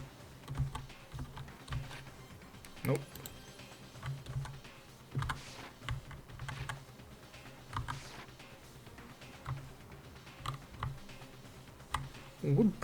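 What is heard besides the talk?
pressing computer keyboard F keys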